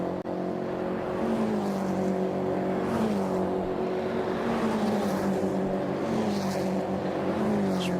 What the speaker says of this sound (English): Just watching the cars beneath my commentary box window here, just seeing them go through now.